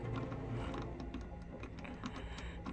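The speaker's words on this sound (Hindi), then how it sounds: "नीचे से चाबी उठाकर लॉक खोलते हैं" Key turning and unlocking a padlock in the horror game Granny 3: a steady run of small mechanical clicks and ratcheting ticks, close and continuous, with no voices.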